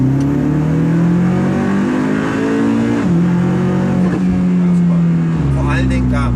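A Hyundai RM19 race car engine drones loudly at high revs, its pitch climbing and dropping through gear changes as it winds out toward 7,000 rpm, with someone speaking over the cabin noise.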